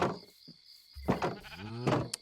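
Sheep in the farming video game Society: Sunlit Valley bleat a couple of times, clear and close, with short wavering cries standing out against a faint steady background tone.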